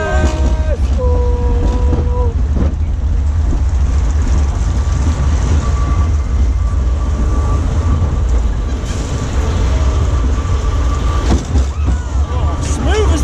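A Zamperla Kiddie Coaster at Adventure Island rumbles along its track with heavy low roar and constant wind buffeting the microphone, loud and steady throughout with occasional clanks and squeals, and voices come through faintly at moments.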